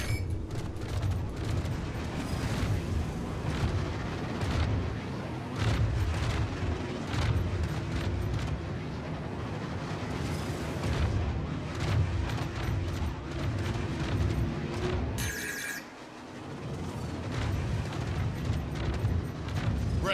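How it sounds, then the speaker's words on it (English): Rapid, consecutive blasts of fire in a video game, a dense run of loud booms and bursts pounding steadily with only a short lull near the end. "Consecutive blasts."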